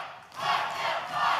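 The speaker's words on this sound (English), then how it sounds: "the crowd obviously not happy. Chanting, let them fight here" A wrestling arena crowd roars in a loud, sustained rhythmic chant of displeasure after a match ends in a draw, swelling twice over a brief stretch.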